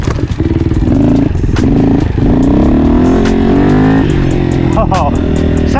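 A gas dirt bike engine revs hard in second gear, a loud, rough, close-up roar with rattling and rising pitch, and a rider's voice can be heard over it.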